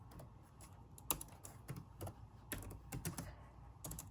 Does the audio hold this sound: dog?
no